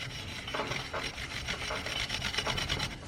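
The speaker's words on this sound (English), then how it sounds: "Scuffing the inside of the barrel." Rhythmic abrasive rubbing strokes as the inside of a 1987 GT Pro Freestyle Tour BMX wheel's barrel is scuffed by hand, close and steady with a rasping, filing-like texture over about three seconds.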